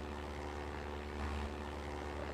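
A propeller plane engine from Minecraft's Flan's Plane Mod drones on steadily and loudly with a constant buzzing hum and no pauses.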